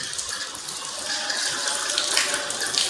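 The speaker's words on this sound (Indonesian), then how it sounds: "Pastikan air mengalir sampai siku-siku" Steady tap water runs continuously while arms are washed up to the elbows for ablution, a close, even hiss and splash with slight swells, no talk.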